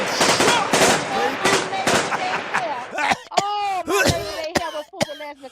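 Rapid bursts of gunfire crack out in an irregular series, loud and close, the early shots dense and overlapping before sharper separate reports follow with ringing tails.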